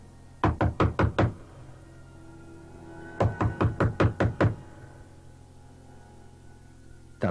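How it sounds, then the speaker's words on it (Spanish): Two bursts of rapid knocking on a door, about five sharp raps each, close and loud, separated by a few seconds of quiet, with no talk. "Sin pensarlo 2 veces subí y llamé a la puerta."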